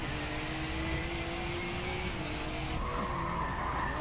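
A race car skids in the Forza Motorsport 7 racing game with a sustained tire squeal that bends slowly in pitch over a dense engine and road roar, moderately loud and continuous throughout.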